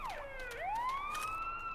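A police car siren in a video game wails up and down, a loud close electronic sweep rising and falling, then sliding into a long rising tone.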